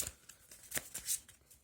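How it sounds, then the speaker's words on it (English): Cards riffled and shuffled on a tabletop while playing the Lord of the Rings card game, a quest card mixed back into the quest deck: several soft, quick papery flicks and slides in a short close burst, no voices. "Shuffle the current quest card in the quest deck and then reveal a new one"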